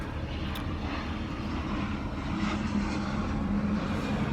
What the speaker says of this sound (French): il y a mon ami l'avion